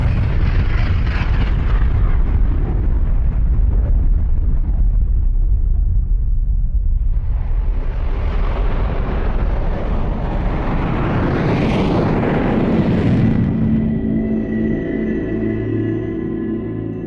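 The 1945 atomic bomb blasts over Hiroshima and Nagasaki arrive as a loud, continuous roaring rumble that swells, dips and surges again before trailing into a low droning hum.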